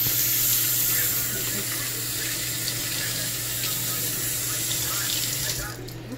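Hands washed under a running tap while salt fish (makayambu) is being prepared, a loud steady rush of water over the sink with faint rubbing and splashing, close and continuous, tapering off at the end.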